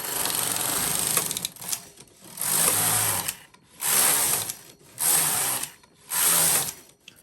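A Japanese double-bed knitting machine knits ribbing after an e-wrap cast on, its carriage swept back and forth in five bursts of rattling, clicking mechanical noise separated by short pauses, close and fairly loud.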